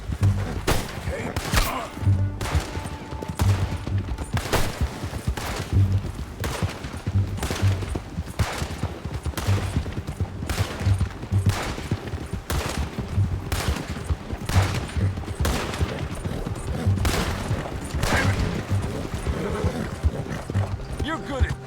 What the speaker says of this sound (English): Shoot that bastard already.